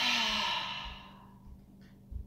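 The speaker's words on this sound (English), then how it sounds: "and a bigger breath out" A deep, breathy exhale during a yoga breathing exercise, loud at first and then fading gradually over about two seconds, with faint low bumps and a soft rustle near the end.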